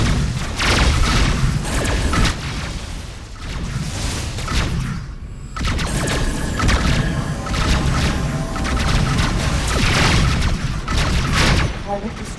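Incoming missiles blasting against a ship in a space combat game, with dense, loud booming explosions and crashing impacts repeating almost without pause, layered over rumbling effects and occasional voices.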